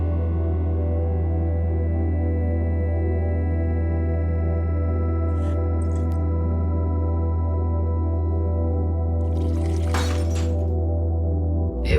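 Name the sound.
glass liquid container shattering in video game The Uncertain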